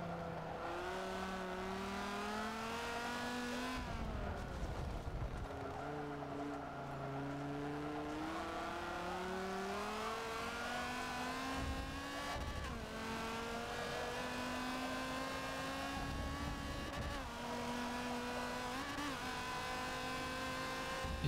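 A race car in Forza Motorsport 7 engine braking on track, its engine holding a loud steady drone that falls and dips in pitch, with several sharp shifts in tone and no talk.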